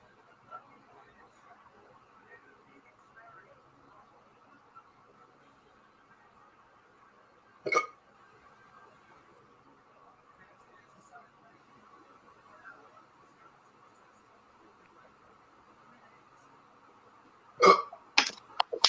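Hiccups from a man during a live Browns vs Steelers betting broadcast: two sharp isolated bursts, one mid-way and a cluster near the end, over a faint, steady background murmur.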